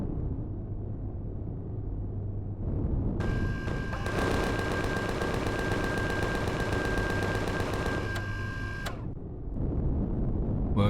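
Rapid automatic gunfire aimed at an ice golem in Empyrion Galactic Survival, a dense sustained burst lasting several seconds over a low background rumble, then cutting off abruptly.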